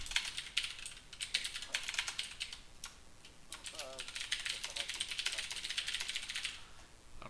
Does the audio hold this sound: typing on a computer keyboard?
yes